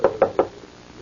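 Three sharp knocks on a laboratory door in an old radio drama, evenly spaced and close, dry and hollow, with no talk over them.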